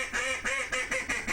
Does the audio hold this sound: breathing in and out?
no